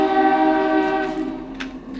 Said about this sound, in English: Here goes my train friend. Let's wait for him to pass